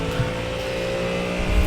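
Ford Mustang GT3 race car in iRacing, its engine a loud, steady, close drone of sustained revs that swells slightly near the end, alone without talk.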